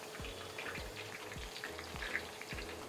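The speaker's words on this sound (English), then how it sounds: "Now you can see the bhindi is deep fried" Okra (bhindi) deep-frying in hot oil crackles with a dense, steady sizzle, punctuated by regular low thumps and scattered bright pops, close and continuous without talk.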